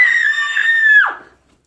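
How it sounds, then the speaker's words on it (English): A single sustained scream into a pillow, loud and close with a strained, slightly muffled tone that holds steady for about a second before breaking downward and cutting off. "Scream into it."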